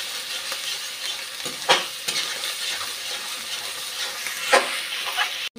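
Ginger paste fries and sizzles in a pan, a steady hiss with occasional louder scrapes and swirls as it is stirred, close by and with no one talking.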